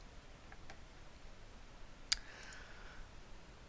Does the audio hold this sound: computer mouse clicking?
yes